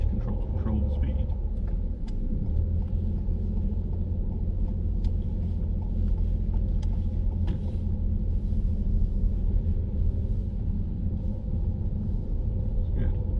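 A learner driver's car engine hums low and steady while driving on a main road, a continuous rumble from inside the cabin with people talking over it.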